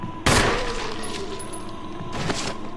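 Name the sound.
gunshot at a zombie in the video game Resident Evil Remaster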